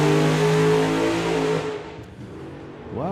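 A drag racing car launching down the strip at Santa Pod Raceway, its engine roaring loudly at first and then fading quickly into the distance, with a faint rev rising again at the end.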